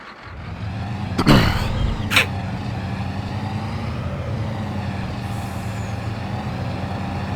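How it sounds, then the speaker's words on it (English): A truck hauling a heavily loaded trailer drives steadily in a farming video game, its engine a continuous loud drone at maxed-out power, with two brief hissing air-brake-like bursts early on. "It's quite a quick truck."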